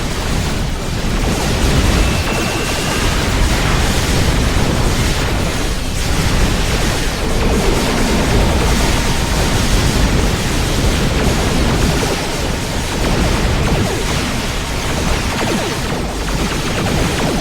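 Dense, roaring weapon fire and explosions rumble continuously in a Star Trek Online space battle involving a Mokai weapon, a loud, noisy wash of blasts without clear breaks.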